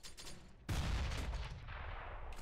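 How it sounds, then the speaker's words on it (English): A flashbang grenade goes off in a first-person shooter, one loud sharp burst that lands partway through and leaves a thick ringing rumble behind it, over quieter game noise. "Deploying flashbang."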